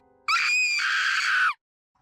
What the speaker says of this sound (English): Kozue let out a scream